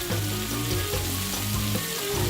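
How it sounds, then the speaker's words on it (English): King oyster, shiitake and shimeji mushrooms stir-frying in a garlic-sauce pan make a dense, even sizzle close by, with a faint low hum underneath and no talking. "The king oyster mushrooms are going in now. together with the shiitake and shimeji mushrooms"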